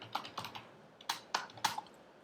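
Keys clack on a computer keyboard as Java test code is typed, in short bursts of quick, close taps separated by brief pauses.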